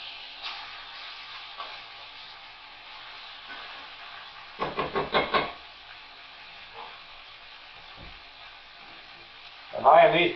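Chops sizzle in a pan over medium heat, a low steady hiss with a louder crackling burst midway and another flare near the end, heard alone.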